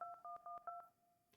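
Telephone keypad dialing tones in a video game, a quick run of about seven crisp beeps at a steady rhythm, then quiet.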